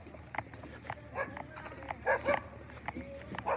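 A street soi dog barks at a Thai Buddhist temple, Wat Phrathat Doi Khao Kwai in Chiang Rai, at sunset, giving several short scattered barks and yips at moderate distance amid outdoor background noise.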